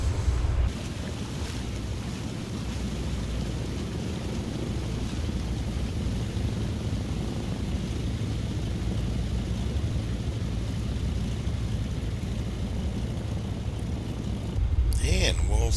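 A DHC-2 Beaver seaplane rumbles steadily at low pitch as it lands and taxis on Moosehead Lake in Maine in Microsoft Flight Simulator 2020, with wind and water noise mixed in and a person talking over it.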